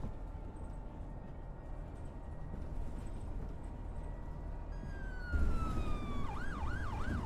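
Police car siren in the OMSI 2 London bus simulator, first a faint steady tone and then a close, loud wailing siren sweeping up and down over the low rumble of a bus engine.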